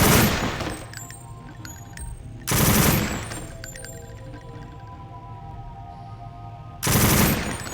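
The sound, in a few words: gunfire at a firing range in the video game Deus Ex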